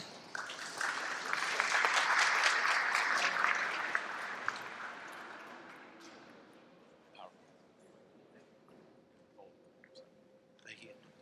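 A town hall audience in Fountain Heights applauds to welcome Mayor Randall Woodfin, a full burst of clapping that swells for a few seconds and then fades out to scattered claps and murmurs.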